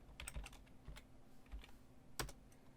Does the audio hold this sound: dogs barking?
no